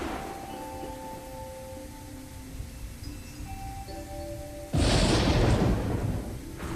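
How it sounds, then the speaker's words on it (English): A thunder sound effect in an RPG Maker video game, heard as a sudden, loud rumbling crash that lasts about two seconds over quiet background game music tones. "That was a good length for thunder."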